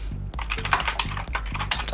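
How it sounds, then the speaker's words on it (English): Rapid typing clatters on a computer keyboard, close and continuous, with a steady run of key clicks over a low rhythmic hum in the background. "Where are you typing?"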